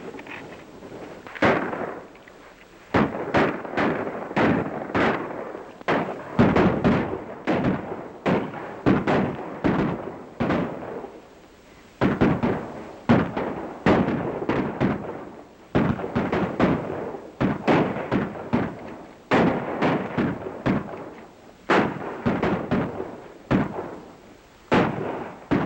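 Guns fire in a Wild West shootout, with sharp, cracking shots in rapid irregular volleys and bursts, some closely spaced and others separated by short pauses, loud and continuous with no talk over them.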